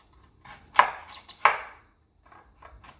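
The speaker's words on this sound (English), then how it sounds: "Removing the skin, and be careful when you use a knife." A kitchen knife cuts the skin off a raw pumpkin, giving a few sharp, crisp slicing strokes, two of them loud and close, with softer scraping cuts between them and no talk.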